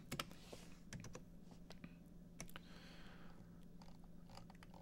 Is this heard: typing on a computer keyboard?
yes